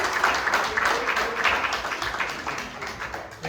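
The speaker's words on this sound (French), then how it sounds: "Kunnen wij applaudisseren voor onze koor?" A church congregation applauds its choir during a bilingual Sunday service, a dense, steady wash of clapping hands filling the room for several seconds, with faint voices mixed in.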